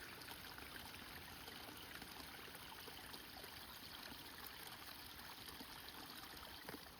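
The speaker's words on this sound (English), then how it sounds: "The little trickle up there through the moss-covered logs" A small stream trickles through moss-covered logs on a hiking trail at Bedford Springs, a faint, steady broadband wash of water running continuously with no voices.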